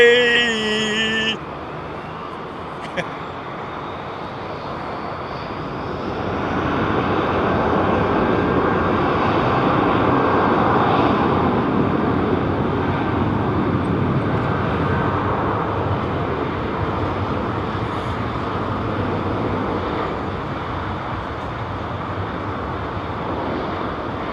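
Jet aircraft engines roar at London Heathrow Airport, a broad, sustained rumble that swells to a peak midway and holds steadily loud to the end, heard from a distance without talk.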